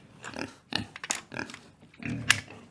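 A pig oinks and grunts in a run of short, close snorts and squeals, several bursts coming one after another with brief gaps between them.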